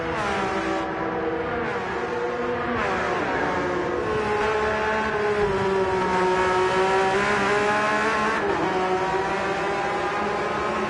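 A GT2-class race car engine in a racing video game at the Nürburgring screams loudly and steadily throughout, its pitch rising and dipping through gear changes and revs.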